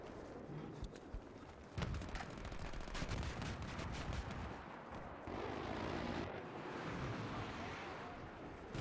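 Sniper gunfire in an online shooter video game, several sharp cracks scattered across a busy, noisy battle soundscape, with a few distant bursts under the action.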